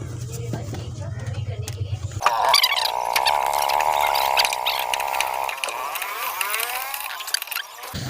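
Metal clicking and ratcheting comes from a wrench tightening the pulley nut on a Star metal washing machine during a rotor plate change. It sounds as a close, steady mechanical rasp with a brief hum early on.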